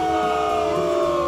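One person imitates a booing crowd by layering five voices, producing a dense, sustained chorus of low vocal drones for just over a second.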